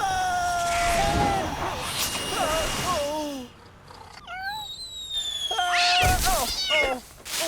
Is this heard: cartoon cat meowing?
yes